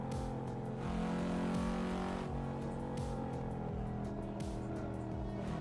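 A Cadillac CT5-V Blackwing driven in the Assetto Corsa racing game, its engine holding a steady, loud droning note with slight shifts in pitch, continuous and close, with no speech over it.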